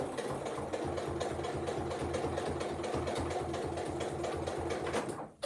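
Sewing machine stitching binding onto a quilt, a steady fast mechanical whir with rapid regular needle clatter running continuously and close, stopping abruptly at the end.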